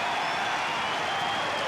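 Crowd applause fills the arena at an Australian Open night match between Lleyton Hewitt and Roger Federer, a steady wash of clapping held at a moderate level across the whole moment.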